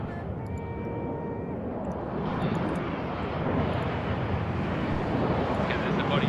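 Jets roll on a runway in the video game Arma 3: a broad, steady engine roar that swells slightly toward the end, with a thin whine near the start and a voice talking over it.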